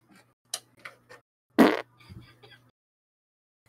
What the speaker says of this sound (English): Should I fart into the mic?